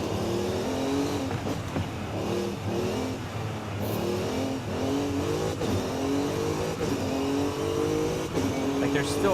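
A Mercedes engine revs and shifts through gears during a hill climb in the racing game Forza Horizon 5, a steady loud drone rising and falling in pitch with each gear change, while a voice talks underneath.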